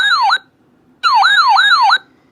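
A weather radio alert tone sounds in two loud bursts of a rapidly warbling, siren-like electronic wail, the second longer, separated by a short silence.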